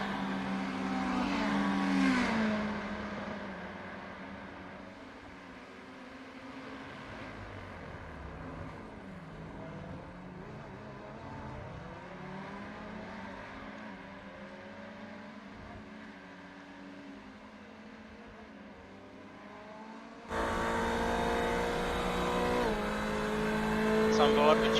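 Ferrari 488 race car engines in an iRacing sim race at the Red Bull Ring, a continuous engine drone rising and falling through gear changes under commentary, with a louder burst of engine noise near the end.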